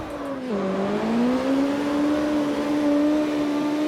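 A car engine in the CarX Street racing game dips as the clutch drops in second gear, then revs and climbs steadily in a smooth sustained whine, loud and close without voices.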